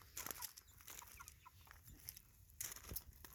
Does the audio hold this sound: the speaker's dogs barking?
no